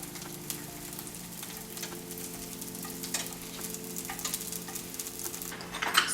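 Rice paper pizza sizzles steadily in oil on a grill, a close, continuous crackle with fine popping spatters and no voices.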